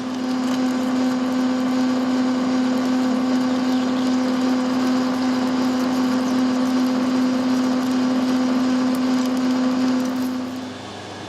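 A lathe parting tool cuts a slice off a stainless steel bar, giving a loud, steady, unbroken whine with a strong tonal hum that runs throughout and fades slightly at the very end, with no voices.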